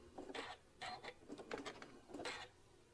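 A sewing machine puts in a few short tacking stitches, close by and quiet, in several brief whirring bursts with pauses between them.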